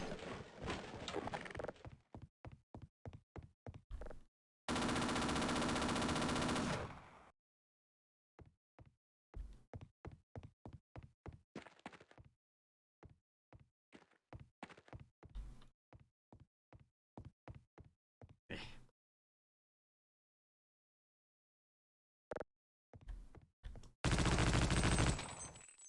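Rapid bursts of enemy gunfire in a video game, sharp repeated cracks in clustered volleys separated by short pauses, with two longer sustained bursts of heavy automatic fire, close and loud, no talking.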